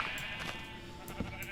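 A Minecraft sheep bleats in a steady, wavering call that runs through the whole moment at moderate loudness, with a faint swell near the end and no talk over it.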